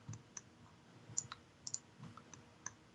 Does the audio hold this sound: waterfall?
no